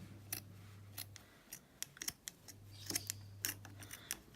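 Scissors snipping through Nike pants, a series of sharp, close crisp cuts in an irregular rhythm, quiet and isolated with a low hum in the background.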